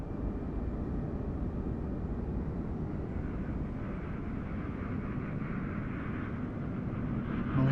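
A Ryanair airliner comes in to land at Ireland West Airport Knock in Microsoft Flight Simulator, a steady loud engine roar and rushing drone held throughout without break, growing slightly at the end.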